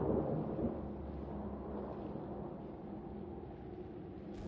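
A stormy alien-world thunderstorm in Mass Effect Andromeda, heard as a steady deep rumble of thunder and wind-driven roar that stays low and continuous throughout, with no voices.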